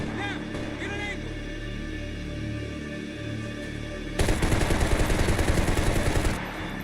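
Gunfire in the action video game Max Payne 3: ambient game sound first, then a dense, loud burst of rapid automatic shots lasting about two seconds near the end.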